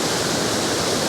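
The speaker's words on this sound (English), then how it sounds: "the waterfall is absolutely spectacular" Steady, dense rush of a canyon waterfall, a continuous broadband roar with no breaks, loud and even throughout.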